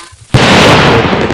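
Diwali firecracker bursting with a single loud, close bang after a brief quiet moment, followed by a dense crackling roar that carries on for about a second.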